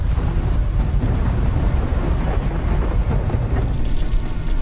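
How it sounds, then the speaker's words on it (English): Heavy, roaring wind buffets an aircraft caught in a storm, a loud continuous rush with dense low rumble and no clear thunderclap, steady throughout. "We are in the middle of the storm, sir."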